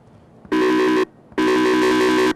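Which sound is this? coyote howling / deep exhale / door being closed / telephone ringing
telephone ringing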